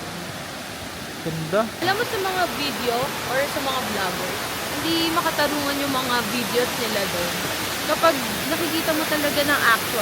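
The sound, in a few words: rushing water of a waterfall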